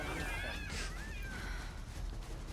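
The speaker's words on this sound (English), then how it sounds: "That cat was really upset at whatever you just did." A cat meows in Lightning Returns: Final Fantasy XIII, a couple of wavering, rising and falling cries over a dense bed of game music and background noise.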